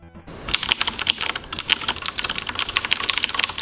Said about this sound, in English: I use cherry blue switches. To me, they sound the best.